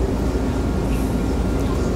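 A ride aboard an MRT train in Manila, with a steady, loud low rumble of the rail car running continuously and evenly throughout, no distinct events standing out.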